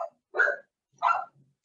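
Household dogs bark twice in the background of a home recording: two short, sharp, fairly close barks separated by a pause, with a faint whimper at the end.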